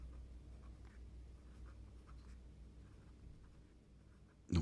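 A pen drawing a three-phase electricity meter diagram with its terminal block and screws, faint steady scratching strokes over a low hum, ending in a sharp louder tap.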